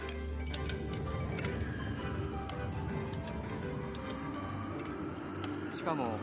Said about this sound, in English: The Joy-Con can convey to you the feeling of ice cubes colliding in a cup.